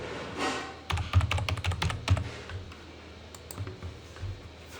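Typing on a computer keyboard, a quick run of crisp close key clicks and thunks that thins to scattered taps.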